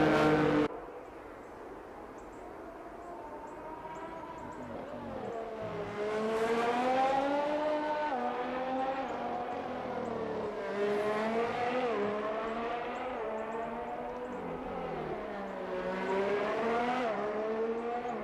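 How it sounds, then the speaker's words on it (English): A McLaren race car in an Xtreme One League round in Australia heads out onto the track, its engine revving up and down through gear changes in a loud, continuous, fairly close wail with rising and falling pitch. "It's the McLaren of Kyle Keegan first out onto the track."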